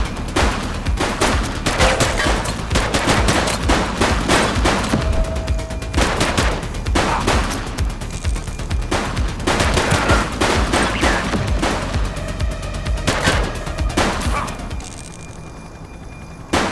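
Sustained bursts of automatic gunfire and rapid shots in a police shootout from the top-down action game The Precinct, loud and dense throughout with brief pauses, a dog barking faintly underneath.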